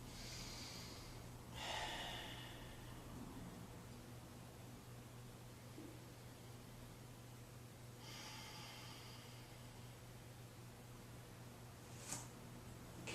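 Slow, deep breaths from a yoga class, with a few distinct inhales and exhales spaced several seconds apart against a steady low hum. The breathing is faint and close, and nobody talks.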